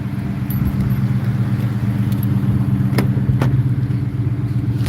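A car drives along, heard from inside as a steady low engine and road rumble. Two sharp clicks sound near the end.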